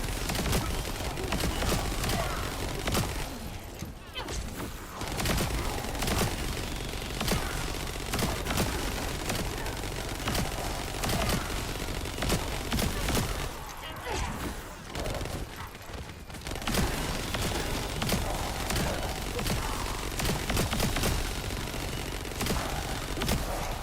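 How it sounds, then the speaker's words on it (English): Rapid, dense gunfire from guns in The First Descendant, loud and nearly continuous, with constant bursts of shots and only brief lulls, over background game noise. "I feel like they made the guns too loud."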